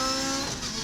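A Lotus race car at speed on the Paul Ricard circuit, Lotus Cup Europe 2019, makes a loud, steady high-pitched engine drone throughout the brief moment.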